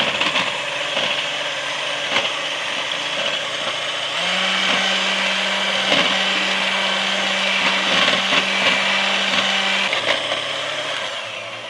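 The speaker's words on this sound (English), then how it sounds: "So you just keep beating it until it gets stiff." An electric mixer beats spoonbread batter until stiff, a loud steady motorized whir close by with a sustained hum and irregular knocks of the beaters against the bowl, running without talk.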